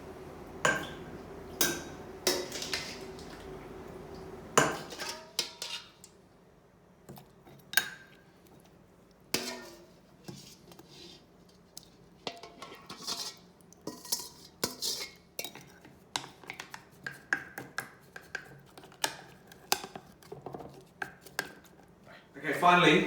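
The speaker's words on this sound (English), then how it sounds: "And I'll just spoon it into the jar" Homemade radish kimchi mixture being spooned into a jar: repeated metal-on-glass clinks and scrapes of a spoon, fairly close, with soft handling noises between the taps.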